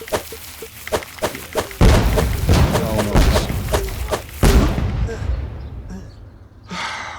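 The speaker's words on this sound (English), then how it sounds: "I think he was chucking grenades or mines" Heavy thuds and booming blasts from grenades or mines in the PC game Scrolling Battles Pro, a run of dull thumps followed by louder, denser explosions at close range, then fading.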